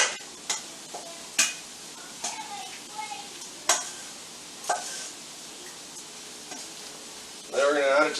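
Floured beef pieces being stirred and tossed in a dish for a beef and ale stew, with scattered scraping taps and clinks over a faint sizzle, then a louder rustling burst at the end.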